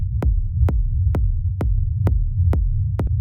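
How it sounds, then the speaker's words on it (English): Rumbly techno kick drum pattern with a deep, throbbing low end, each hit topped by a sharp click in a steady, even pulse, heard alone and loud. "when we play it with on its own, it's a little bit rumbly"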